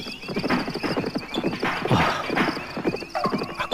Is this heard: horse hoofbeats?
yes